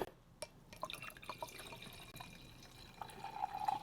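Wine pours into a glass up close, with small drips and clinks and then a rising gurgle as the glass fills.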